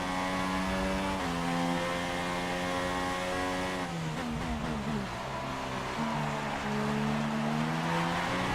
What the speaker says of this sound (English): I'm getting wheel spin in like 4th gear.